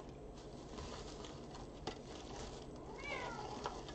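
A pet cat wanting to come in meows and fusses at a door, a rising cry near the end over a steady noisy background, fairly close.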